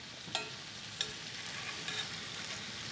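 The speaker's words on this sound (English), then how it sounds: "you keep it moist by basting it" Pan-seared steak sizzles steadily in a pan with plenty of melted butter as it is basted, with a couple of sharp spoon clinks against the pan over the continuous frying hiss.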